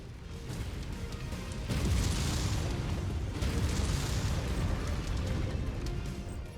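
Explosions tear through supply reserves in MechWarrior 5: Mercenaries as two loud, rolling booms in close succession. Each one swells into a sustained roaring rumble with crackling debris, and no voices are heard.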